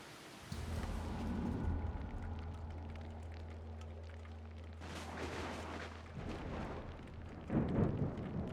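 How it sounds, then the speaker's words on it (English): Thunderstorm in Assassin's Creed Odyssey: a deep rumbling roll of thunder over a low steady hum, followed by sharper crackling bursts and a final loud clap, no talking. "Bring on the storm."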